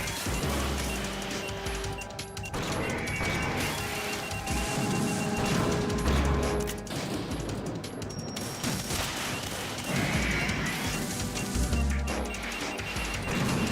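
Dense gunfire in the video game Metal Gear Solid 2: Sons of Liberty, loud, rapid volleys of shots and crashing impacts running throughout with no pause.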